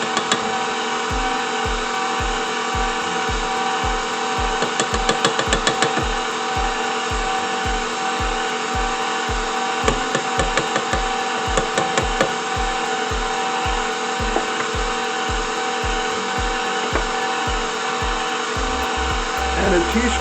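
An electric mixer whirs steadily through banana nut muffin batter with sour cream, a loud, continuous motor drone with a regular rhythmic beat as the beaters turn, close up and sustained throughout.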